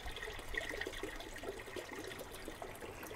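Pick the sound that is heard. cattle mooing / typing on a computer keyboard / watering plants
watering plants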